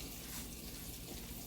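Salad greens are rinsed under a kitchen tap, water running in a steady, even hiss that stays faint and constant for the short stretch, with no talking.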